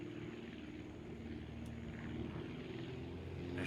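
An aircraft engine in flight in Aviassembly, a steady propeller drone with a low humming tone that holds evenly and swells slightly toward the end.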